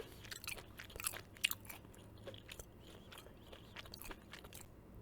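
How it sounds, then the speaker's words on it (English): Someone chews smoked salmon from Whole Foods close to the mic, with soft, irregular bites and wet mastication clicks repeating over several seconds against a quiet background. "Stems are hard to chew."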